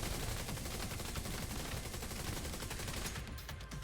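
Rapid automatic gunfire in The Division 2 during an Oxidizer build fight, dense continuous bursts of shots that run steadily across the whole span with no talking.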